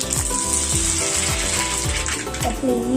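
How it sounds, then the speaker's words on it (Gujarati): Mustard seeds crackle and sizzle in hot oil for tempering, a dense spattering fizz close up, with a few spoon scrapes against the pan. "હવે આપણે વઘાર કરીશું હું રાઈ નાખું છું પહેલાં"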